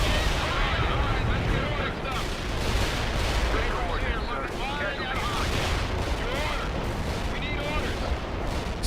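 Artillery in the game World in Conflict fires smoke ordnance as a sustained roar of booming impacts and crackling gunfire, dense and unbroken, with faint voices mixed into the din.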